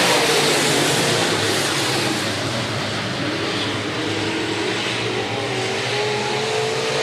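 Stock cars and late models racing on the Rapid Speedway track, a continuous loud roar of engines sweeping past with shifting pitch, sustained throughout without talk.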